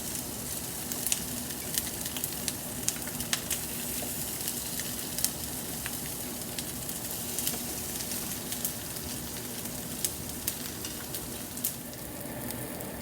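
Salmon patties fry in a pan with a steady, close sizzle and occasional small pops and crackles, continuing evenly throughout with no voices.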